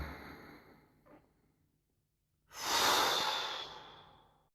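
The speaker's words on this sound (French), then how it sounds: "on ouvre à l'inspire" A soft breath tapering to quiet, then a strong, deep inhalation-like rush of air that swells and slowly fades, close up and alone, during a bio-energetic breathing meditation.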